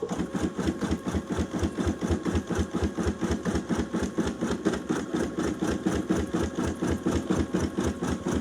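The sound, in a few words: embroidery sewing machine stitching a Father's Day design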